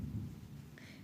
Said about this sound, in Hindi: यहाँ बारिश बहुत तेज़ हो रही है।